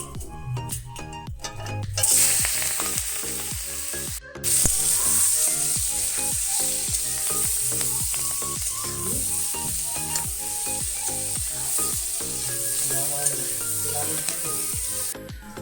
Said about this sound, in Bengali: একটু হলুদ দিয়ে যেগুলো সিদ্ধ করেছিলাম ওইগুলো একটু তেলে জাস্ট নাড়িয়ে নেবো